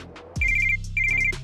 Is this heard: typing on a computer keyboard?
no